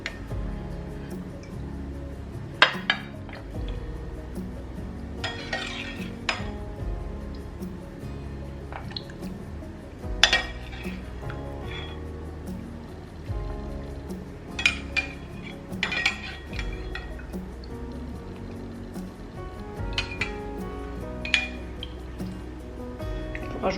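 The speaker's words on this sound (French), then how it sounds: "Je vais rajouter les pêches au sirop." Canned peaches in syrup tipped into a dish over melted butter, giving soft wet squishes and drips with scattered clinks of utensils against a pan, fairly quiet and without talk.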